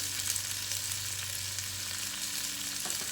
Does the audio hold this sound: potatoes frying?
yes